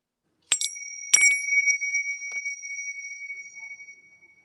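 Two clear metallic chime strikes about half a second apart, each ringing out bright and sustained and slowly fading into silence, rung alone with no talk.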